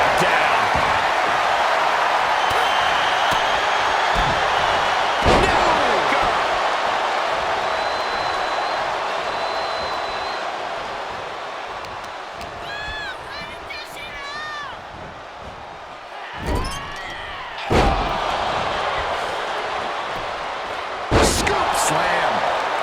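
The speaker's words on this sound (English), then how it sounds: "Gets slammed down." A wrestler is slammed onto the mat during a Fatal 4-Way steel cage match in WWE 2K25, producing heavy thuds over a steady roaring crowd, with several sharp impacts spread across the stretch.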